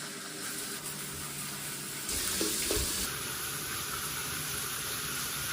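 Steady, broadband hiss of running shower water, close and constant, getting slightly louder partway through, with no voices.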